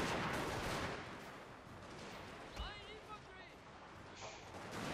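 Musket volleys from kneeling infantry in a Total War battle crackle as distant, dense bursts of gunfire, faint and rolling beneath a voice talking.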